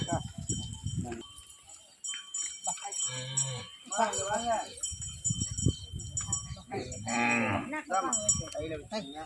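Cows mooing during a Hindu cow worship ceremony, a gau puja with calves at a cow seva trust, with several loud bellowing moos rising over a man's ritual chanting and nearby voices.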